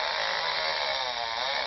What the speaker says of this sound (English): It's got the chainsaw. It's going to cut down this tree.